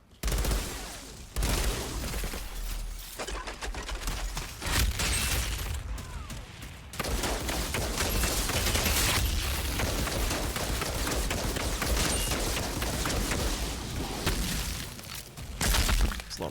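Sustained gunfire from the video game Outriders, dense overlapping bursts and impacts running loud almost throughout, with brief dips and sharper blasts near the end.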